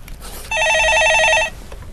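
An electronic telephone ring for a call-in stock market show, one warbling trilling burst lasting about a second, loud and close, over faint studio background noise with no talking.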